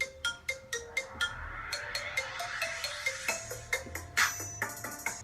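A phone rings with a song as its ringtone, playing a rhythmic beat with plucked, bright notes that sounds close and moderately loud, with no talking.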